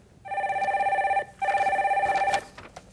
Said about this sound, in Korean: 다음 전화 연결해 주세요